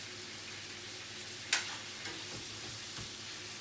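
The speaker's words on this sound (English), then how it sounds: "get that butter, all that kind of curry at the bottom of your pan, get it back over the fish" Nut-brown butter sizzles steadily in a pan while it is spooned back over fish, a soft continuous frying hiss with one sharper spatter.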